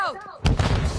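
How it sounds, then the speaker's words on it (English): A stun grenade detonates in a first-person shooter game, one sharp loud blast that rumbles off, following a brief falling whistle-like tone. "Stun grenade out!"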